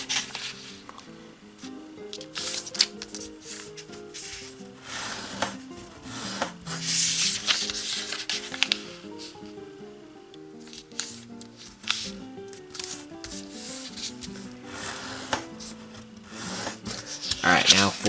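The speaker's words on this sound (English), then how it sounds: "now fold the two sides to the crease" Origami paper being folded and sharply creased, with soft rubbing and crisp rasping scrapes recurring through the passage under steady background music.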